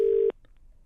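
A steady telephone dial tone on a handset, loud for a moment, then cut off and followed by a few faint electronic beeps of a call being placed.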